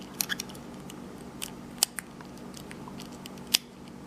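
Small metallic clicks and ticks from pins setting in an old 5-pin cylinder lock picked with a Medusa pick, a few sharp isolated clicks scattered over a quiet background.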